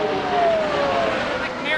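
Bobby Rahal's CART race car accelerates out of the pits at the 1989 Michigan 500, a loud engine whine sliding down in pitch as it pulls away, with a commentator talking over it.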